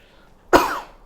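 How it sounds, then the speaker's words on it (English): A single close, loud human cough, sudden and throaty, with a short rough tail. No other sound. "so that I don't keep coughing on you like that"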